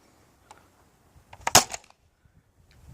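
Xplorer Xzeus foam dart blaster fired one-handed, loading V3 tips with yellow foam: a single sharp close snap with a short burst of mechanical rattle, preceded by a faint click, otherwise quiet.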